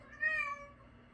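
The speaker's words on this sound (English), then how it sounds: "I would tell the cat to shut up, but that is my deaf one" A deaf cat lets out a single short, tonal meow, fairly faint and close, in an otherwise quiet room.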